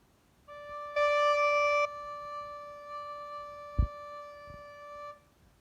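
A single steady, pure recorder low D note sounds for about five seconds, briefly louder at the start, with a soft knock partway through.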